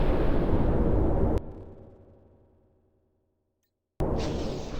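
Missile striking an aircraft in the Project Wingman flight combat game: a loud broadband blast that fades away over about two seconds into near silence, then a sudden burst of roaring noise returns.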